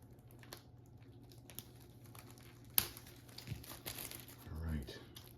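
Plastic wrapper of a trading card pack being sliced open and crinkled, a steady soft crackle close by with a sharper snap partway through and a louder rustle near the end, under a quiet background hum.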